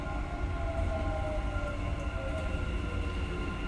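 Dubai Metro train arriving at Ibn Battuta station, a steady loud rumble with sustained tonal whine from the approaching cars, continuous throughout without speech.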